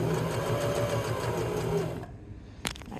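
A sewing machine stitches a fabric seam held at a 5/8 allowance. It gives a close, steady, rapid whirr for about two seconds, then stops and leaves a faint hum and a single sharp click.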